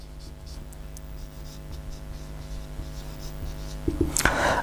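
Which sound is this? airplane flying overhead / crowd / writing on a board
writing on a board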